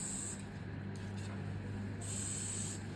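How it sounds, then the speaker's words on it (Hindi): Hair spray hisses from a can onto styled hair in two short, soft bursts separated by a quiet pause, against a faint low hum. "फ्रंट और बैक दोनों से हेयर स्प्रे करेंगे"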